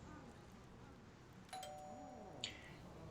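A two-note doorbell chime from the hospital management game Project Hospital rings once, quiet and brief, with a second faint tone following, over a low steady hum of game ambience.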